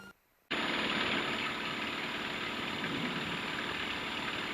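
Lancair light aircraft engine at full run-up RPM before takeoff, a steady loud drone that starts abruptly after a brief quiet moment and holds evenly throughout.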